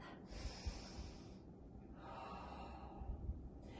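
A yoga instructor takes a slow breath, two long airy breaths in and out, close and soft, with no talk.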